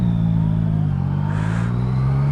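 A car's engine pulls steadily under acceleration in everyday traffic, a loud close drone whose pitch creeps slightly upward throughout, with no talking.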